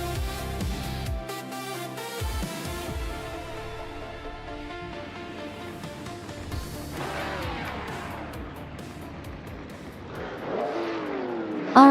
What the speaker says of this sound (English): the race has just kicked off at Nashville Superspeedway infield track